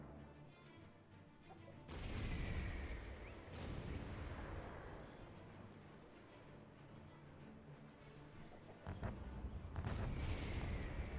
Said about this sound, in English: Mortar teams, fire at will. You heard the Commander. Fire!